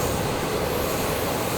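A Yamanote Line train in Tokyo rumbles over the tracks overhead as a loud, continuous, broadband roar with steady rolling noise and no voices.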